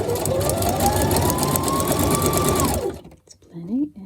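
A sewing machine runs a zigzag stitch on transparent junk journal pockets, a loud steady mechanical whir with rapid needle chatter for about three seconds, then stops as a voice speaks briefly.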